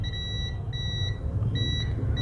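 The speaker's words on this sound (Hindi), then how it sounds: "बीप आ रहा है इस कैप के दोनों साइड पर" A multimeter on continuity mode beeps across a capacitor on a mobile phone circuit board, giving several short, thin electronic tones in a row over a steady background hum.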